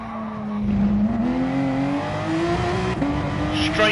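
In Gran Turismo Sport at the Red Bull Ring, a race car's engine revs climb steadily under full throttle, the pitch rising smoothly until a gear change drops it before it climbs again.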